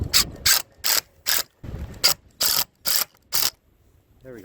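A hand ratchet tightens screws on a picket fence, giving eight loud, evenly spaced bursts of rapid clicking, each about a quarter second long, then a short pause, and a faint squeak at the end.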